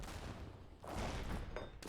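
Heavy cannons firing in a battle game, a dense, continuous rumble of overlapping booms with a louder burst near the middle and another at the end, no voices.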